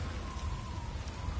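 Heavy storm rain pours in God of War Ragnarok, a dense, steady hiss of falling drops filling the short stretch, with no talk.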